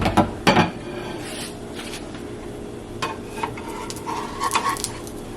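A fluffy pancake is flipped in a pan over medium-low heat, giving a couple of quick clattering knocks of pan and utensil at the start, then soft scrapes and light sizzling through the rest; no one speaks.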